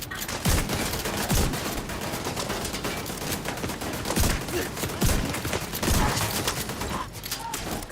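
Turret gunfire in The Division 2 rattles out in rapid, repeated bursts of sharp shots. The shots come close and loud over a dense battle din.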